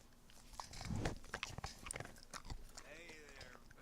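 Liver chestnut horse Boadicea crunching her food, a burst of close, crisp chewing and biting noises with a person speaking softly over part of it.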